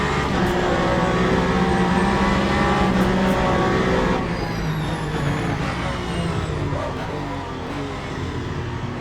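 A Ferrari race car at the Bahrain 8 Hours in a racing simulator, its engine roaring loud and close with steady high revs, then dropping to a lower drone partway through, with faint tire noise.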